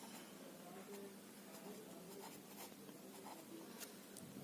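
A pen scratches across paper as a geometry proof about intersecting lines is written out, with short irregular strokes and faint scribbles. A voice speaks quietly underneath.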